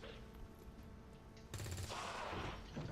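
Gunfire in XCOM 2 on Legendary Ironman: a sudden loud burst of shots hits mid-clip over a steady game-ambience bed and keeps rumbling to the end, with no talking.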